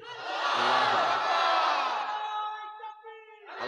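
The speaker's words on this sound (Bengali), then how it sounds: "একটু তাকবীর দেন তো জোরে" A large congregation at a Bengali religious sermon gathering shouts takbir in unison, a loud, sustained chorus of many voices swelling together, then fading as a single voice trails off and another call begins.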